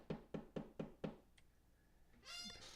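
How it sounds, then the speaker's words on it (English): Five faint, evenly spaced knocks on a door, soft but insistent, followed by a quiet pause and a brief muffled clatter. "hearing a series of faint but determined knocks at her door"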